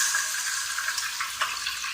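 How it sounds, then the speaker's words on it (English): Tap water runs and splashes steadily into an emptied tomato can being rinsed out, with a continuous hiss and a few small sloshing bumps. "You always rinse the can out with some water."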